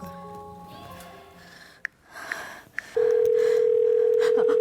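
On a phone call, a few short dialing beeps are followed by a steady, loud, continuous tone close up, after a stretch of faint household background.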